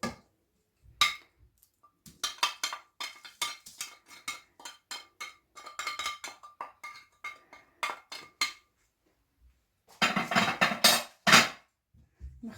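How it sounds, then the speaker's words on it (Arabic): Potatoes being tossed with olive oil, lemon juice and spices in a bowl, heard as a run of clinking and scraping knocks, some close and sharp, with a denser clattering burst near the end. "نخلطهم كتير منيح مع بعض لحتى نتبل البطاطا"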